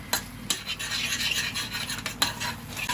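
Egg whites whisked in a bowl for a tomato omelette, soft quick scraping and swishing strokes with a few sharper clinks of the utensil against the bowl, close and fairly quiet.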